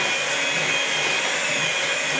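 An electric mixer whirs steadily through madeleine batter made with baking powder, a loud, even motor drone that runs unbroken from start to finish with no voices.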